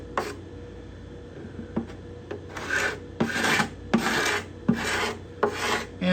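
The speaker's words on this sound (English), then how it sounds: "And I'm not being aggressive with my scraping" A hand scraper rasps along the bindings and purflings of a cedar guitar top in a steady series of short, close strokes, each a dry scratchy pass with brief pauses between.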